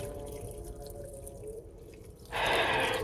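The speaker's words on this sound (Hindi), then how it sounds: "इसके अंदर हम 3 कप पानी ऐड करेंगे" Water is poured from a cup into a pot on a high flame for saag, beginning with faint drips and a low hum before a sudden loud, splashing gush near the end.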